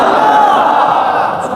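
A large crowd chants the Labbaik slogan at a religious address, a loud, dense, continuous roar of many voices held for a second or two.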